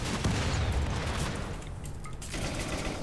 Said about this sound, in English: Turns out they can still shoot through the shield with those guns.